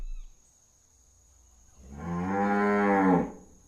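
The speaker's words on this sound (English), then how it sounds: "this is a cow that needed milked badly" A cow badly in need of milking lets out a single long, loud moo that swells and cuts off, heard alone and close after a quiet pause.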